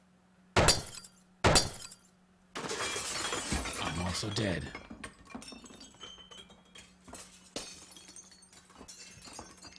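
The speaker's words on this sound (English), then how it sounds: "That's a lot of broken glass." Glass shatters in the video game This is the Police: two sharp crashes, then a longer burst of breaking and tinkling shards that settles into scattered clinks. A voice speaks briefly partway through.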